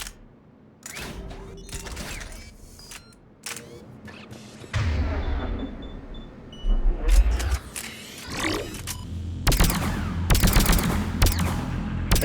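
Gunfire in Mass Effect 3 comes as sharp single shots and rapid bursts scattered across a busy battle, with loud clustered volleys toward the end and a voice talking at points.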